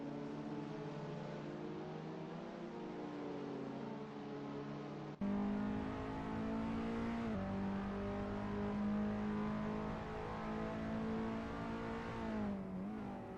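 Race car engine in the Assetto Corsa video game at Interlagos, running steady at high revs with harmonic whine, then a sharp blip and a drop in pitch on a heavy downshift before pulling again, loud and continuous with no talk.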